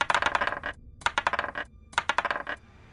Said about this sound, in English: The other goblin turns around excited from the sound of coin hitting the floor